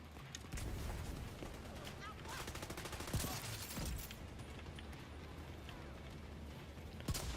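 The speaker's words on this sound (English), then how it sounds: "Who is shooting me?" Gunfire from a firefight in The Division video game crackles throughout as dense, rapid shots, with a few sharper cracks standing out over a steady rumble of ambient game noise.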